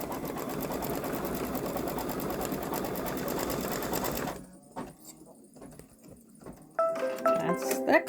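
A Babylock Solaris Vision embroidery machine stitching a Ninjago design onto a boy's long-sleeve shirt, a fast, dense mechanical chatter for about four seconds that stops abruptly, followed by quieter handling noises and clicks.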